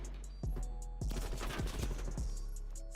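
Rapid bursts of gunfire crackle in a Call of Duty esports match, several sharp shots in quick succession over a constant game background hum, no commentary audible.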